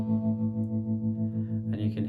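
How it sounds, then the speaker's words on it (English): An electric guitar holds an A chord through a tremolo effect, its sustained tone pulsing loud and quiet in an even rhythm before a brief strum or scrape near the end. "So tremolo sounds like this"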